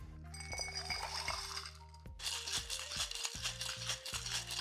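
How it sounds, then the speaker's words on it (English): Ice rattles rapidly and steadily inside a cocktail shaker holding a gin tiki cocktail, a loud, continuous clinking chatter of cubes against metal, near and alone with no voices. "Let's get some ice in there and shake this up."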